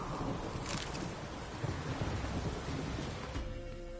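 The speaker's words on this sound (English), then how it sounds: "Storm, damn it." Thunderstorm in the video game Witcher 3, with steady rain hiss and low rolling rumble filling the scene, a brief brighter crackle early on, no voices.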